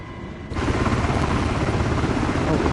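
An MH60 Blackhawk helicopter in a PS5 flight game, its rotor and turbine noise swelling in abruptly after a quieter half second and then droning steadily and loudly throughout.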